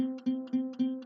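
A single low plucked open C string note rings out four times in a steady, even rhythm, each pluck clear and close with a short sustain.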